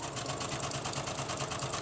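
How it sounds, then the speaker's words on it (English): A sewing machine runs fast and steadily, a dense even whir of rapid stitching through fabric, close and continuous with no talking. "We can sew fast for this. My machine"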